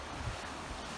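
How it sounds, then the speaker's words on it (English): Broad, steady rush of a fast-flowing river heard up close, loud and unbroken like wind-blown water noise, with no voices over it. "Very loud by the rushing river."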